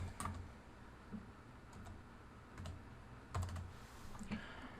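Keystrokes on a computer keyboard as a template name is typed into transaction software, a run of quick light clicks with brief pauses and a few bunched bursts, close and clear over a quiet room.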